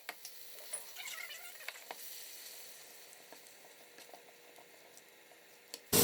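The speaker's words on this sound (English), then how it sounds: "I'm going to let this simmer and cook away" Tomato stew simmering in a cooking pot, a faint, steady sizzle with scattered soft pops and crackles, ending in a sudden loud burst of noise.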